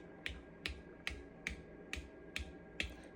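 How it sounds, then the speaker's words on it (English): Seven sharp, evenly spaced taps on the sealed metal lids of home-canned dill pickle jars, each a crisp ringing tick about half a second apart, close up and alone. "Tap on each of the jars."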